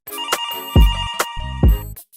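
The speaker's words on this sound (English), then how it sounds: "Phone's ringing." A telephone rings with a bright electronic trill, two ring bursts separated by brief pauses, loud and close, each with a low thumping pulse underneath.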